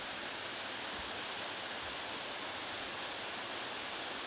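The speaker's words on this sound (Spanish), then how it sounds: "la agua que está corriendo es la que da funcionamiento a la planta que está ahí abajo" Water rushes through a canal toward a turbine plant, a steady broadband hiss like a waterfall, constant and moderately loud with no voices.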